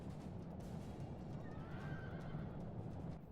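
Massed cavalry from the video game Rome: Total War fill the scene with a dense, continuous rumble of hooves, and a horse's whinny rises over it midway, the whole sound steady and full with nobody speaking.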